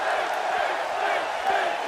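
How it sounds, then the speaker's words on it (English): A wrestling arena crowd in WWE 2K16 roars and cheers in a steady, dense wash that holds at full volume the whole time, with shouts rising above it. "The crowd getting behind Finn."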